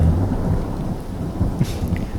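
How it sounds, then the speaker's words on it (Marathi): Deep thunder rumbles steadily and heavily through the whole stretch, with rain falling continuously underneath. "ढग गडगडू लागल्यावर"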